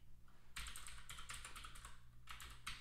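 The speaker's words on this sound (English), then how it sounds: "And I'm actually just typing this to type it." Quick bursts of keystrokes on a computer keyboard, close and fairly quiet, coming in clustered runs with short pauses between them.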